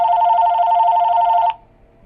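A telephone ringing loudly and close in a workplace, one steady electronic ring tone holding for about a second and a half before cutting off abruptly, with only faint room noise after and no talking.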